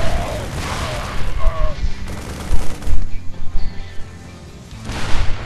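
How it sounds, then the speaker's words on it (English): Tank fire cutting down Marines in a real-time strategy game, bursts of rapid gunfire and booms clustered in the middle, with a voice talking over the start and end. "He's going to lose all these Marines at tank fire."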